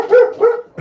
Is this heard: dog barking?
yes